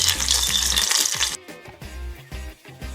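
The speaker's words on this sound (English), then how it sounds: "So I'm putting the sage there in that oil." Sage leaves fry in hot canola oil, giving a close, steady crackling sizzle that briefly flares loud and then settles into softer bubbling.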